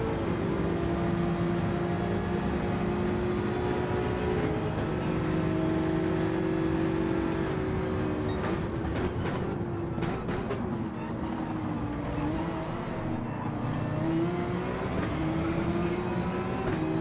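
Race car accelerating at Monza in a racing video game: a steady, loud engine drone with rising and falling harmonic tones, sustained throughout, with brief clicking bursts midway.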